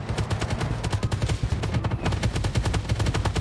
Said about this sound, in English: taking some autocannon fire from one of the Bradleys